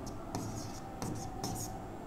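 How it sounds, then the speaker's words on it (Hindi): Chalk or marker scratches across a classroom board in a few short, faint strokes, set against a steady background hiss, with no talking. "मैं यहाँ पे लिख दे रहा हूँ"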